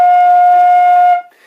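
A flute plays a correct note F, a clear sustained tone that holds steady and loud for just over a second before stopping abruptly, heard alone.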